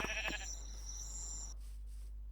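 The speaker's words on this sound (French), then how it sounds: "Ah non, c'est pas un mouton comme les autres" A sheep bleats in Minecraft with the Cobblemon mod, a short bright bleat in the opening half-second, then a faint game ambience with no voices.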